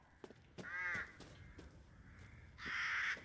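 Two loud, harsh crow caws ring out in a Resident Evil Village game scene, the first around the one-second mark and a longer second call near the end, with faint scattered knocks in between.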